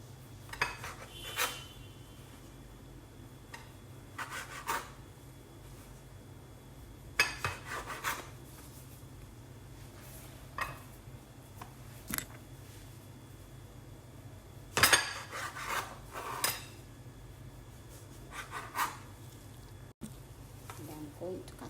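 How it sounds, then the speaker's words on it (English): A knife sawing through bread on a board for a toast-and-egg breakfast, with scattered scrapes and light clinks of the blade and dishes against a low steady room hum, several short bursts spread over the stretch. "Cut my bread"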